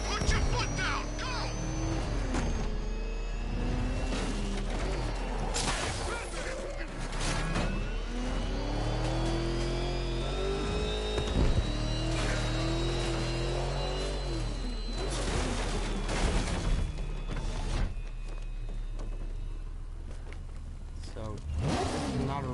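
Getaway car accelerating during a chase in Batman: Arkham Knight, a continuous engine drone rising and falling as it revs, with game dialogue and music over it.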